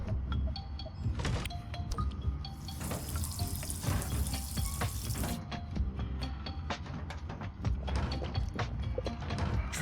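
Drinking water in the video game D4: Dark Dreams Don't Die comes through as a steady run of faucet-like water with small mechanical clicks and rattles. It is faint and continuous, with no voices.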